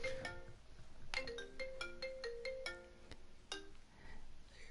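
A personal phone ringtone plays a bright, melodic electronic tune of repeated chiming notes for several seconds at moderate loudness, with no talking over it.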